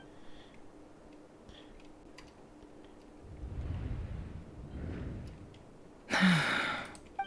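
A woman's sharp gasp in the Genshin Impact video game, one brief burst standing out loudly near the end against a quiet game soundscape.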